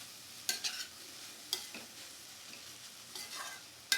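Okra (bhindi) frying in oil in a pan, a faint steady sizzle broken by a few sharp scrapes and stirring clatters, with no voices.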